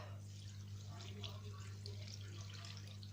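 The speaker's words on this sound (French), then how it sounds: "je vais rajouter l'eau" Water poured into a Compact Cook Pro bowl full of vegetables for soup, a faint steady trickling and splashing over a low electrical hum, quiet and close.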